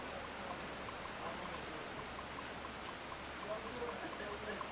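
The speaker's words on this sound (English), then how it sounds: "this rain is making me nervous" Steady rain hisses faintly and evenly throughout as a soft, continuous wash of noise, recorded during a podcast session in Broward, Florida.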